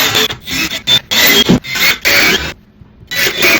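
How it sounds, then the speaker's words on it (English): Screws being driven into wall studs with a power drill while building shelving, loud close bursts of whirring and grinding, some brief and some longer, separated by short pauses and one longer silent gap. "I am screwing the screws into the wall"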